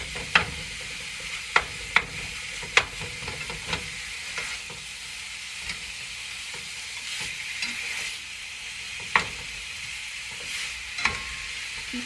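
Pork sausage sizzles steadily in a pan while being stirred and flipped, a constant frying hiss broken by a few sharp spatula scrapes and clicks close by, with no talking.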